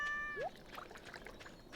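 A cat gives a single short meow in the Stardew Valley video game, faint against light game chimes and background sounds.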